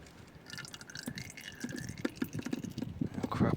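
Old, gunky engine oil from a Mk2 Toyota Supra sump draining and dripping, a close series of irregular wet drips and splashes that grow louder and busier toward the end, with no talking.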